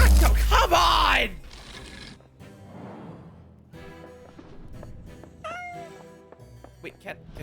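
A loud cat meow opens in a video game, followed by scattered softer game sounds and a rising chirp, with a person talking over it.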